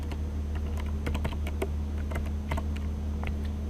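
Rapid, steady tapping on a computer keyboard, with close, crisp keystrokes clustered in quick bursts over a constant low electrical hum, no voices.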